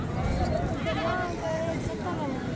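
Sheep bleating at a livestock market in DG Khan, a few wavering bleats rising over a busy background of crowd chatter and people talking nearby.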